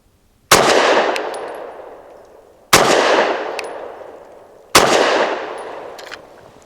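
SAR9 SC Gen 3 pistol firing Federal HST law enforcement ammunition outdoors, three loud, evenly spaced single shots, each with a long fading echo and a faint metallic ping afterward.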